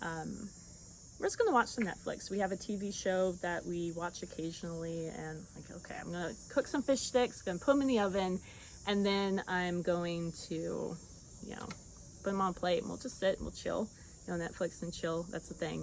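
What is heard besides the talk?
cicadas buzzing in a backyard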